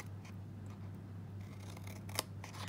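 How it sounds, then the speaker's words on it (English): Scissors cutting card stock up to a score line: soft, quiet snipping over a steady low hum, with one sharper snip near the end. "We're going to cut up to that 1st inch score line."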